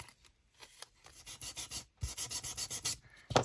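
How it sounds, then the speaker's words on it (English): Scrapbook paper being sanded down in a junk journal, a series of quick rhythmic scratchy rasps in two bursts with a brief pause between, close and fairly quiet. "Sand it down"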